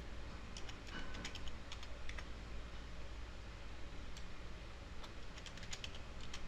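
Rapid, steady clicking of a computer keyboard as a password is typed, light and close, with irregular key taps standing out over a constant background hiss.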